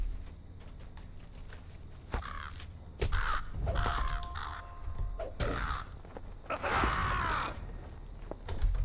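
Crows caw repeatedly in the fantasy game Lord of the Rings Online, harsh calls recurring at irregular intervals over a steady ambient background, fairly close and clear, with no talking.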